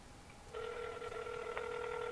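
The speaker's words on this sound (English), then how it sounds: "You can hear that phone ringing." A telephone rings on the far end of an outgoing call, heard as a steady electronic ringback tone through the line, moderately faint and uninterrupted, with no talking.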